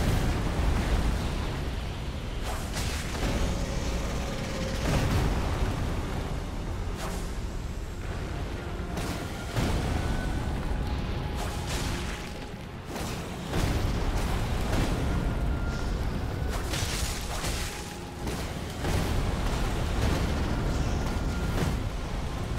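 Fire attacks in the video game Elden Ring: repeated booming explosive bursts and crackling fiery blasts, loud and dense throughout, with brief lulls between volleys.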